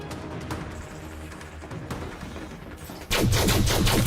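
Rapid automatic gunfire in the video game Elite Dangerous: Odyssey, with scattered shots over a low ambient bed before a sudden loud, dense burst of fire takes over near the end.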